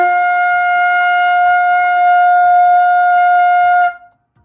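A flute holds a single clear, steady F note at the top of the staff for nearly four seconds, loud and close, then it stops abruptly into quiet.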